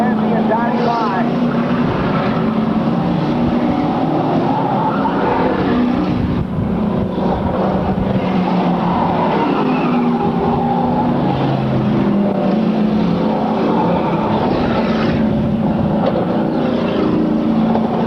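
Race cars at a 1998 race circuit roar continuously along the track in a steady, droning engine whine that is loud and unbroken, with a commentator's voice running over the top.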